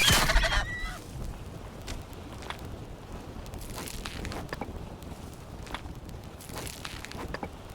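A bird in the 16th-century survival game Survival: Fountain of Youth honks and squawks in short repeated bursts over a steady outdoor ambience, with footstep-like thuds scattered between the calls.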